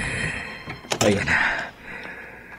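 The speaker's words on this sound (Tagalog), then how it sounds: "Nasira ko ng pinto sa likod ng bahay." A heavy thunk and rattle come as a house's back door is forced open at night, followed by a brief breathy sound and a quieter scrape. The whole struggle happens close and loud.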